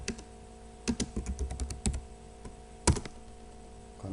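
Commands typed on a computer keyboard while configuring a Cisco router, with bursts of close, crisp key clicks and a few louder keystrokes, the last near the end, over a steady low hum.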